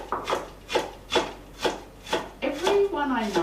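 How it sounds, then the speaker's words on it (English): Onion being sliced on a wooden board, a steady series of about seven crisp knife strokes at a regular rhythm, close and clear, with a brief rising tone near the end. "So now we're learning the José way of slicing an onion."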